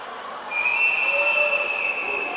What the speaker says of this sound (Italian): Aspetta il fischio dell'arbitro che arriva in questo momento